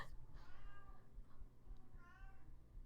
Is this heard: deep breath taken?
no